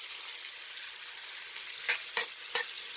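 Food sizzles steadily in a very hot skillet on a stovetop, a constant bright hiss, with a few quick scraping stirs toward the end, close up and without talk.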